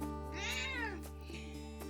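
A cat named Esmeralda gives one clear, rising-and-falling meow close by, followed by quieter faint chirps over a steady low hum.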